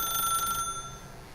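An old telephone rings in The Stanley Parable, a bright electronic trill that sounds clearly for about half a second, then cuts off, leaving a faint hum.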